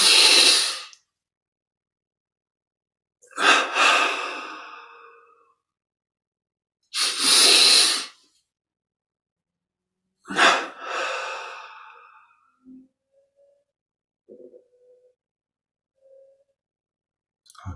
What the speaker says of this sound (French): double inspire par les narines